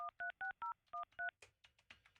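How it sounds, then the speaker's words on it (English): A cell phone number is dialed, giving six quick, evenly spaced touch-tone beeps, followed by fainter electronic chirps as the call connects. "All right, calling Chloe's cell phone."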